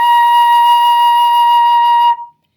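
A flute sounds one steady, bright B flat held for about two seconds, played alone and close, then stops cleanly with a brief trailing breath.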